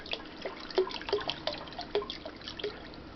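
Vodka trickles and drips into a pot of apple pie moonshine, a faint, uneven patter of droplets and small splashes over a quiet background.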